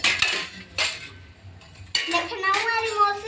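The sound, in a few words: metal kitchen utensils clinking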